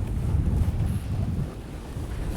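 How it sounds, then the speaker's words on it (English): Strong, steady wind gust buffeting the microphone during a flight, a dense low rumbling roar that holds for a couple of seconds and eases slightly before swelling again. "Another big gust on the nose."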